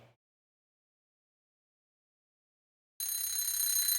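An electronic alarm clock in a video game starts ringing suddenly after near silence, a bright, loud, continuous bell-like tone that holds steady to the end.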